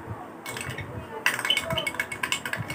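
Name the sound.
stirring dish soap until it foams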